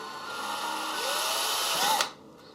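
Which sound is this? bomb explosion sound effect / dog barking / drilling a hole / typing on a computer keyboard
drilling a hole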